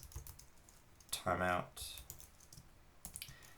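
Close, rapid clicking of computer keyboard keys as code is typed, in bursts, with a voice speaking briefly in the middle.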